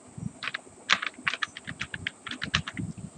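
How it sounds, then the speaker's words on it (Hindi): Typing an email address on a computer keyboard: a quick, uneven run of close, crisp key taps, alone and steady. "आपको ईमेल आईडी इस प्रकार से डालना है।"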